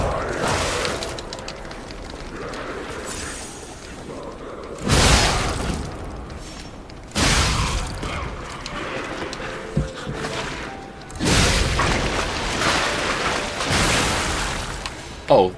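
Explosions in the video game Lies of P burst out as several loud, sharp blasts at irregular intervals, each one trailing off into rumbling debris between quieter stretches.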